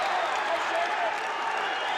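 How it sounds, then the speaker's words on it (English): A boxing arena crowd roars in a steady, dense wash of cheering and noise as a fighter is pinned on the ropes, broad and sustained, with no distinct voices standing out. "The crowd reacting to James Toney being back on the ropes."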